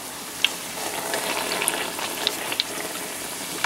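Mexican fritters frying in oil, a steady close sizzle with scattered sharp crackles and pops throughout, no voices.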